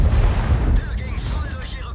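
The cannon of an E 100 heavy tank in a video game fires one deep, heavy boom that rolls off into a fading low rumble.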